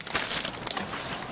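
Brief plastic crinkling as a bag of molded gray parts from an AMT Ertl 1:25 scale 1964 Chevy Impala SS model kit is handled, with a few sharp rustles up close.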